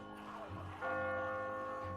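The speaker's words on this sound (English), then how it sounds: "There's the bell." A church-style bell tolls in The Walking Dead video game, set in Crawford, its sustained metallic ring swelling partway through and holding steady, fairly quiet and alone without talk.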